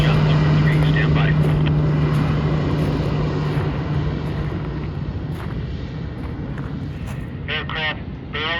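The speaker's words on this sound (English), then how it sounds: "Aircraft barreling down the runway." A skydiving aircraft at a drop zone roars down the runway for takeoff, a steady loud engine drone that slowly fades as it pulls away, with faint chirps near the end.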